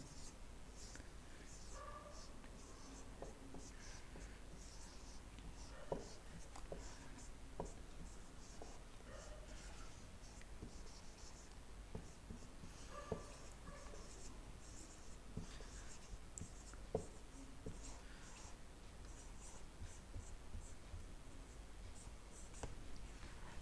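Pen or pencil writing letters of the alphabet by hand, faint soft scratching strokes in short bursts with brief pauses, quiet and close in a still room.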